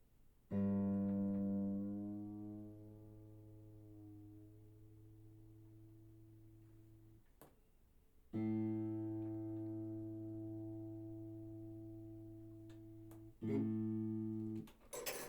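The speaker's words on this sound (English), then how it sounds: "That's what I'm going to be hearing in my head, that note A." Plucked guitar A notes at 440 Hz ring out and decay slowly, each sustained for several seconds with a few brief string noises between them, fairly quiet overall.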